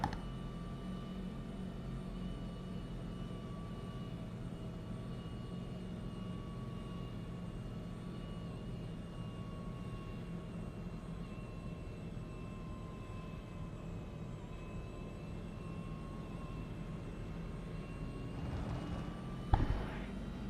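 A race car engine heard from inside the cockpit during a Grand Prix, a steady faint droning hum with sustained tonal whine and a brief knock near the end.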